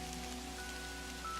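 Steady rain falls in the video game Kathy Rain as a dense, even hiss of drops on surfaces, continuous and fairly loud with a low hum beneath.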